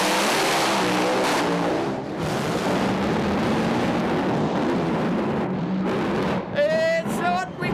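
Race car engines at a Speedweek event blare loud and continuous as drivers blip on and off the throttle, the revs rising and dropping, with a sharp high whine surging in near the end.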